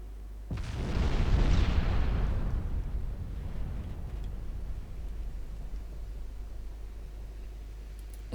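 A deep, heavy naval artillery boom erupts in a warship battle in the Ultimate Admiral Dreadnoughts video game, then rumbles out slowly over several seconds under a low steady background drone.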